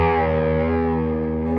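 A Schecter Sun Valley Tele-style electric guitar with a Floyd Rose tremolo sounds its low E string once through heavy distortion, a loud, thick sustained note ringing steadily with chorus-like shimmer and no other sounds.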